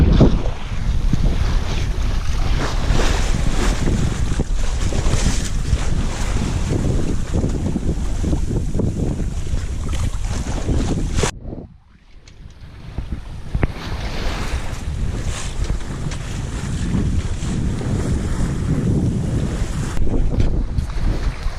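A sailboat under way in building wind between Dana Point and Catalina Island, with loud continuous wind rush and water wash. The roar drops out briefly midway, then returns just as strong.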